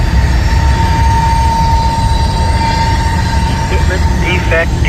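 A mixed freight train rolls past on the rails, loud and close, with a continuous heavy rumble of wheels and a thin squeal, while voices talk faintly near the end.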